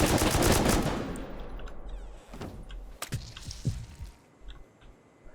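M249 machine gun fire in the Rust video game: a loud opening burst that fades into scattered, sharper single shots and distant cracks spread over a few seconds.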